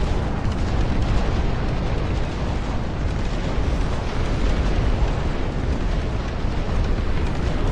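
Massed 12-inch guns, howitzers and rockets firing in the Dust Front RTS game, a dense, continuous roar of overlapping booms and blasts, loud and unbroken.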